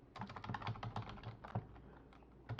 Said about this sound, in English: all I'm going to do here is I'm going to type, write me a product listing title and description